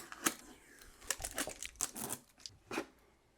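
Adhesive tape peeled and torn away from the filter of an AROEVE air purifier, a run of close, crinkly ripping bursts with short pauses between pulls.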